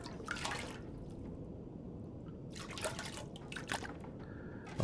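Water sloshing from a toilet in The Long Dark comes as a few scattered, trickling, dripping bursts over a steady low background hum, with a short spell of quiet between them.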